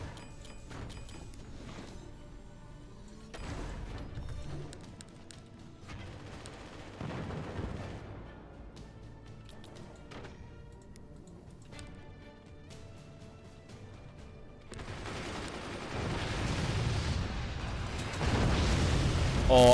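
Rapid weapon fire from minigunners or rockets in the physics-based fort-battle strategy game Forts, a dense rumbling barrage of booms and bursts running throughout and swelling louder near the end, with a voice talking over it.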